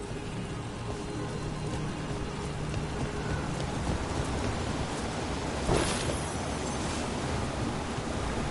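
A waterfall in Dragon Age: The Veilguard pours in a constant broadband rush, a dense hissing wash like heavy rain. A brief louder splash comes near the end.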